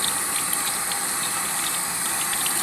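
Water runs from a tap into a sink, a steady, close hissing gush that stays even from start to finish with no pauses.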